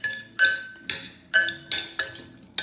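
A spoon knocks and scrapes against a bowl while salted raw fish for ceviche is mixed, giving a run of six or seven sharp clinks in an uneven rhythm, close and distinct with no talking.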